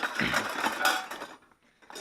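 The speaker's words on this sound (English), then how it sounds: "I'll just get my chuck key out here a sec." A metal chuck key for a drill or mixing machine rattles and clinks as it is pulled out during bathroom renovation work, a close jangle of loose metal that ends in near silence.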